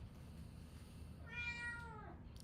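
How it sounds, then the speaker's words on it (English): Cats meowing loudly in a drawn-out, wailing cry that rises and falls over about a second, standing out clearly above a steady low background rumble. "I'm not starving my cats. Okay, they just like screaming like this"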